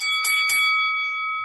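A sustained electronic opening bell rings out for the NASDAQ market open in New York, a steady multi-tone chime lasting over a second, loud and alone with no talking.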